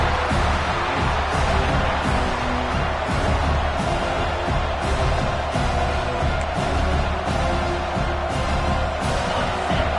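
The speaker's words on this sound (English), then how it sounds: "This crowd bringing the energy and noise early" Steady, dense roar of a large football stadium crowd, constant and loud throughout with a broad wash of voices and no distinct pauses.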